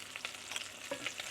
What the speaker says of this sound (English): I'm gonna toast it on the ghee.